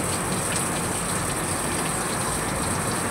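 Tap water gushes steadily into a vessel as rice is washed for chicken biryani, a continuous hissing splash close by with no voices.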